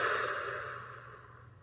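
A single deep exhale during guided breathing, a soft, close, steady breath out of about a second and a half that fades gently, with no talking.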